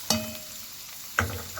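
Chopped onions hit heated oil in a pan, giving two short crackling sizzle bursts about a second apart, each fading quickly into a quiet hiss.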